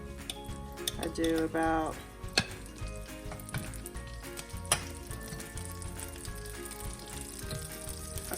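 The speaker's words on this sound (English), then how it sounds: "put butter on the pan, and plenty of butter" Butter sizzles in a frying pan before an omelet is cooked, a soft continuous crackle beneath brief speech, with a couple of sharp clinks of a utensil on the pan.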